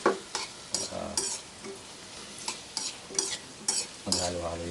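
Ingredients fry and sizzle in a pan while a utensil stirs and scrapes through them in repeated rhythmic strokes, close and clear over a steady hiss.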